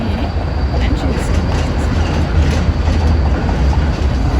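Continuous loud rumble and rattle of a tram in motion, steady wheel and track noise filling the whole stretch, heard from inside the carriage with faint indistinct voices.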